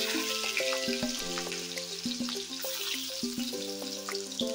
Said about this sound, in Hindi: अब मैं इसमें दे दूंगी चॉप्ड ऑनियन